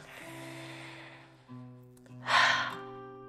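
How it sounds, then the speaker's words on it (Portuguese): A deep breath drawn in, a soft airy inhalation that swells near the end over a sustained tonal musical background, close and fairly quiet. "Faça uma respiração profunda"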